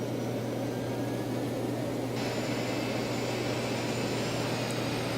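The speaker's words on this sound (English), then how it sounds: "Okay, starting engine 2." An airliner jet engine spools up in a flight simulator during start of engine 2, a steady low roar with a rising high whine that enters partway through and holds to the end, with no voices.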